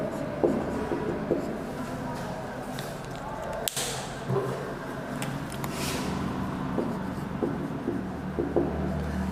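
Chalk or marker writing on a board, with scattered taps and scratchy strokes at a moderate distance under a steady room hum; no speech.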